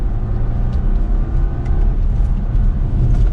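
A 2022 BMW X3 sDrive30i accelerates under light throttle in manual paddle mode, a steady smooth engine drone with cabin road rumble, moderately loud and continuous, no talking.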